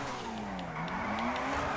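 A car in GTA 5 scrapes and skids with a drawn-out tire squeal and rising, falling whine over a low engine rumble, fairly quiet and continuous without speech.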